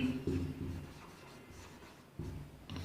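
Pen scratching steadily on paper as square root digits are written out for a Class 10 maths lesson, faint and close, in short strokes with brief pauses.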